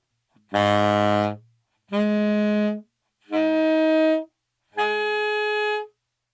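Four sustained saxophone overtones played on the low B-flat fingering, each held about a second with short gaps, rich in bright overtones and shifting pitch between notes.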